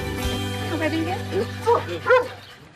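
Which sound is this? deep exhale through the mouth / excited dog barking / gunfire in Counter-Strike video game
excited dog barking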